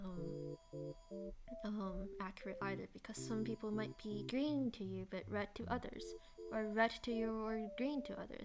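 A telephone rings repeatedly in a steady tonal pattern, moderately loud and sustained under a person talking continuously.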